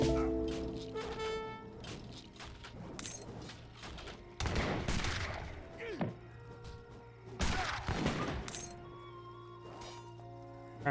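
Musket volleys crackle through an Age of Empires 3 battle, several loud bursts of gunfire and impacts scattered over a steady game backdrop, with a commentator talking over the action.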